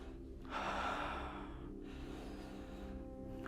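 A single long, deep breath drawn in and slowly released during a physiotherapy exercise for a disc bulge, close and steady with no talking.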